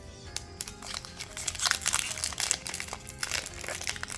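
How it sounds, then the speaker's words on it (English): Crinkling plastic wrapper of a Magic: The Gathering booster pack being torn and opened, with steady close crackling and rustling throughout and no voices. "So I'm going to open up my next pack and pull out 2 cards from here."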